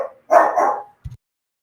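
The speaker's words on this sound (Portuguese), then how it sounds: "Bruno é o cachorrinho" A small dog barks close by: one sharp bark followed by a shorter, softer yelp, then quiet.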